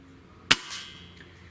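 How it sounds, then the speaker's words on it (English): A single sharp crack from a Gamo Swarm Magnum Gen3i air rifle, close and loud, followed by a fainter impact as the pellet strikes the target, then quiet, with no talking. "God, this thing hits with so much power"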